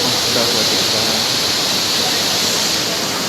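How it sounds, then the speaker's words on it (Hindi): Water from Davis Falls pours into Gupteshwar Cave near Pokhara as a loud, steady, unbroken roar that fills the whole space at close range. "सड़क के उस पार स्थित डेविज फॉल से जो पानी आ रहा था वो यहाँ अंदर गुप्तेश्वर केव्स तक पहुँचता हुआ दिख रहा है"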